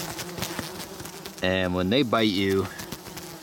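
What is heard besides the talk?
horse flies buzzing around a tent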